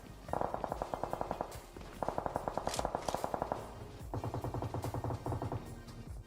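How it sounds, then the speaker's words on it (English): Automatic gunfire in a PUBG esports match: three sustained bursts of rapid rifle fire, each a couple of seconds long, with sharp repeated cracks that are fairly loud and close, separated by brief pauses. "Ex-prisoners shooting up towards them."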